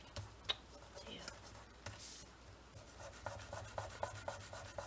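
Glue residue being rubbed off a craft journal page with a finger, a soft dry scuffing and light ticking in short repeated strokes, close and quiet, with faint background noise.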